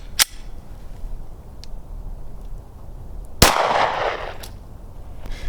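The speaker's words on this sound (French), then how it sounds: "Glock 22 en calibre 40." Two sharp gunshots from a Glock 22 pistol in .40 caliber crack outdoors, one near the start and a louder one a few seconds later, each trailing off against steady background noise.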